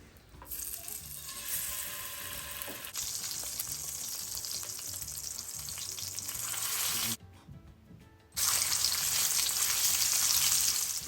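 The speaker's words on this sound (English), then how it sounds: "so let's fry it." Salmon pieces with crispy skin fry in a pan, a loud, steady sizzle and crackle that drops away briefly, then surges back even stronger.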